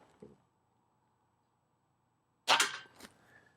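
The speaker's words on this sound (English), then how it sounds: "Now I'm going to go ahead and send my first shot down range here." A Hatsan Nova air rifle fires one sharp, loud crack downrange, followed by a brief metallic ring and a smaller echoing knock, with near silence before it.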